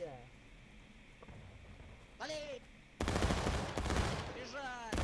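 Musket volley fire from massed Civil War infantry lines in the game Blue and Grey, with a dense crackling burst of overlapping shots erupting loudly partway through and sustaining, some scattered shots earlier, and voices shouting over the battle.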